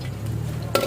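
Garlic fries in hot oil in a wok while being stirred, a steady close sizzle that ends in a quick metallic scrape.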